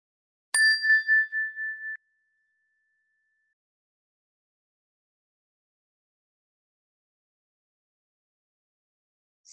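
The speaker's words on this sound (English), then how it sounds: "we'll begin the meditation with a ring of the chime" A meditation chime is struck once, giving a clear bright ring that wavers and fades over about a second and a half, followed by long silence.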